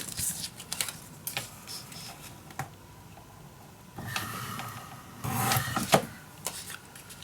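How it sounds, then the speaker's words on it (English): Paper is cut to size for an envelope mini album: close, crisp clicks and snips come in uneven bursts, with a couple of longer rustling, scraping strokes. "Let me cut this the right size."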